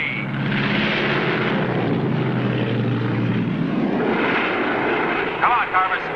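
Propeller training airplane from around 1951 in flight, a loud continuous droning engine roar with steady low throbbing that fills the whole stretch, with a voice speaking over it near the end.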